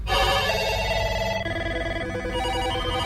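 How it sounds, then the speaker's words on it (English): Many office telephones ring at once with incoming calls, a loud, dense wall of overlapping electronic trills that keeps going without a break and changes pattern midway as the rings stack up. "every headset in the office boomed with the sound of an incoming call"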